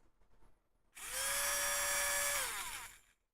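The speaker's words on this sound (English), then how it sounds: "God, it's a really angry sounding motor too" A Tamiya electric drill motor whines up abruptly, holds a loud, steady high-pitched buzz for about a second and a half, then winds down, preceded by faint handling noises.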